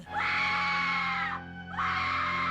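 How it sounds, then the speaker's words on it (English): A person screaming in a horror film scene: two long, loud, high-pitched shrieks separated by a brief gasp, close and piercing with no other sound over them. "It's very annoying to watch people screaming."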